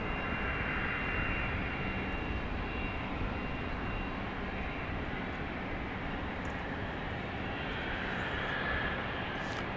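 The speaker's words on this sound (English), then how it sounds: "It's a Southwest 737-700 arriving from the Big Apple, LaGuardia Airport in New York." A Southwest Boeing 737-700 jet arriving at Dallas Love Field gives off a steady, loud engine roar with a broad whine that holds level for the whole stretch, with no talking over it.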